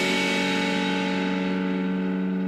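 A single distorted electric guitar chord, fretted at the tenth fret of the B string, rings out loud and sustained with reverb, heard alone and held steady throughout.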